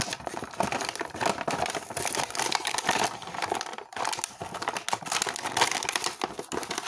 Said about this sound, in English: So I am basically just gonna tear this open.